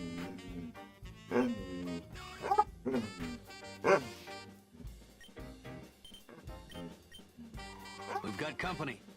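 Holmes, a pet dog, gives several loud, close yips and barks in short bursts, mixed in with someone talking over background game music.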